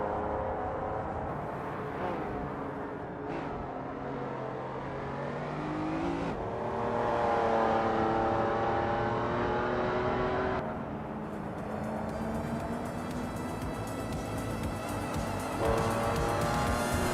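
A 1995 BMW 850 CSI V12 grand tourer's engine in a racing game, a steady close, loud drone that climbs in pitch through gear changes, with shifts around the middle and toward the end and other cars' engines layered beneath.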